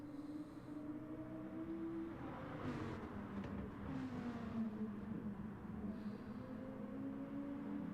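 GT race cars of the GT Champions GTC series sweep through a high-speed kink, engine drones rising and falling as they pass, set against a steady track backdrop with a faint commentator's voice.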